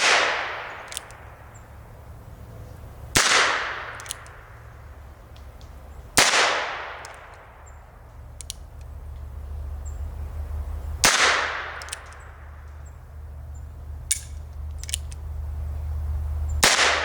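Four sharp gunshots from .22lr handloads charged with 1.5 grains of 700X powder, fired a few seconds apart outdoors, each crack followed by a long echoing decay, with faint clicks of handling between the shots.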